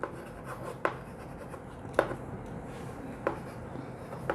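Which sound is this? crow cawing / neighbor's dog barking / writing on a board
writing on a board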